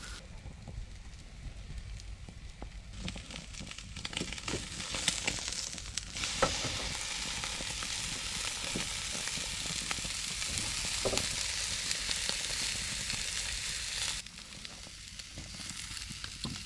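Food sizzles on a grill at a campsite, a long, steady crackling hiss with scattered pops and a gusty, windy background running throughout.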